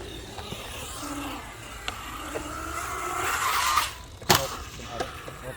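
A small RC car at a skate park whines and accelerates, its motor rising then cutting off with a sharp clatter near the end, set against outdoor background noise.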